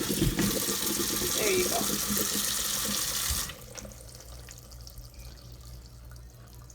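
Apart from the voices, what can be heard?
cold water running from kitchen tap over cauliflower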